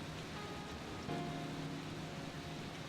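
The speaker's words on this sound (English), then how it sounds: "The rain's not letting up." Steady storm rain pours down as a dense, even hiss, continuous and moderately quiet in the background of a dramatized scene.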